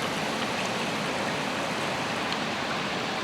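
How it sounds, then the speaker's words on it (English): Steady rushing flow of water along a mountain trail, a dense even hiss that stays constant and fairly close with no breaks. "Water everywhere."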